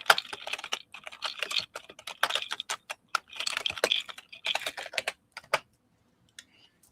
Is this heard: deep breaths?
no